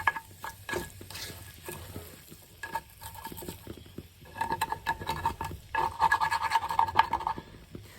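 A spatula scrapes and stirs across the bottom of a pan of sizzling Spam, potatoes O'Brien and egg white scramble, producing close, gritty scratching strokes in irregular bursts over a soft frying hiss.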